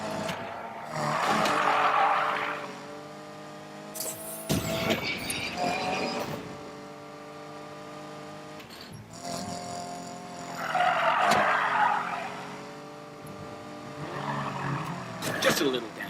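Car tyres squeal and skid in the racing game Need for Speed Payback as another car is spun off, with long screeching bursts over revving engines and a voice talking across the action.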